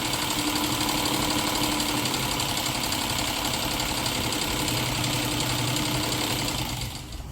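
A sewing machine motor whirs steadily while winding thread onto a bobbin, a continuous close mechanical hum with a light rattling texture that runs for several seconds before easing off at the end.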